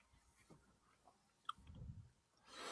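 Gum is chewed near the microphone, giving faint, sporadic wet clicks and smacks, with a soft rustle toward the end.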